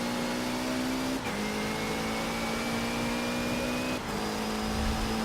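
A race car in a Forza racing video game drives under a loud, continuous engine whine. It shifts gears twice, each time with a brief dip in pitch, and its pitch rises steadily between the shifts.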